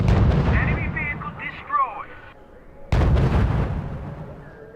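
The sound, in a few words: gunfire and artillery in video game R.U.S.E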